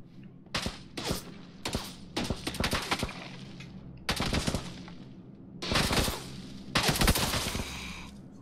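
Bursts of automatic gunfire in PlayerUnknown's Battlegrounds, several loud clustered volleys separated by short pauses, with rapid cracks and heavy low thumps filling the stretch.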